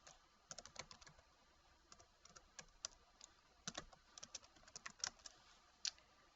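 Rapid, irregular keystrokes on a computer keyboard, fairly close and moderately quiet, with occasional sharper clicks and short pauses between bursts of typing and no speech.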